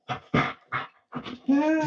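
A dog named Ezra, lying at its owner's feet, makes several short, close whimpers and breathy panting sounds, ending in a longer high whine.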